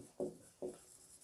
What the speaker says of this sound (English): You can just draw a line there